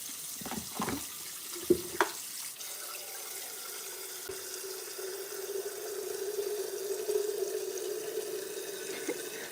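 Cold tap water runs into a sink at a bathroom or home tap, a steady moderate splashing stream with a few sharp knocks near the start, heard alone without speech.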